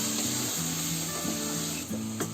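Vegetables frying in oil in a pan while being stirred, a steady close hiss of sizzling with occasional soft scrapes from the stirring, no voices.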